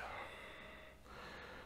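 Steady breathing in and out through the nose during a yoga session, a soft continuous airy hiss with a brief dip midway, close and quiet, with no talking.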